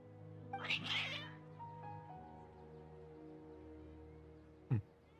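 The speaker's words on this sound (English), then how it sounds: "Your cats seem pretty worked up." Cats in Genshin Impact let out an agitated, drawn-out meow near the start, followed by quieter game ambience and a brief sharp sound near the end.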